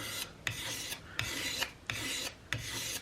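A rolled-edge cabinet scraper, lightly oiled, scrape-finishes a homespun powder horn in steady, evenly paced rasping strokes, about five close, loud passes with short pauses between them.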